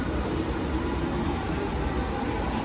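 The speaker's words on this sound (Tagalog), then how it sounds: "Yan parating na ang tren" A train pulling into a station in Japan, a steady broadband rumble and rail noise filling the whole stretch at an even, fairly loud level, with no distinct voices.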